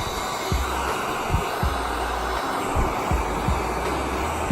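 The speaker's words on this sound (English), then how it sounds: "You're gonna turn the heat gun on, get it nice and warmed up." A heat gun blows continuously while warming a can of shoe polish, a loud, steady airy roar with a low hum and occasional soft thumps and knocks beneath it.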